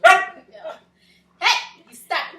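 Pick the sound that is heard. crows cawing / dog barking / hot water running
dog barking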